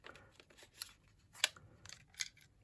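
Scissors snip through paper for a raggedy junk journal page, a few quiet, irregular cuts with sharp clicks of the blades, close by and alone.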